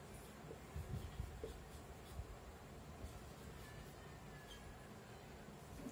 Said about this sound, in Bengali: আয়তনের বিচারে পরপর আমি লিখছি নামগুলো